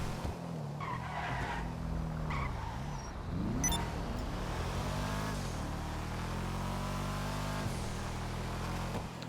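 A car drives in GTA Online, its engine revving and shifting through gears with sustained tire skidding and squeal, loud and continuous throughout.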